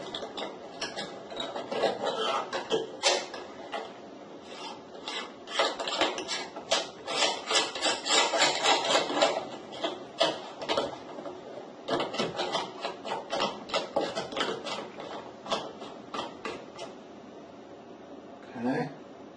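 Part threaded onto an ASG photon cage camera mount for a RASA 8, a long run of close mechanical clicks and grinding ratchet-like turns in uneven bursts, fairly loud and steady until a pause near the end.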